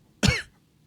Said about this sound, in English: as I cough directly into the mic to prove a point